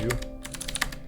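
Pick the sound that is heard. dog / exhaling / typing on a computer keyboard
typing on a computer keyboard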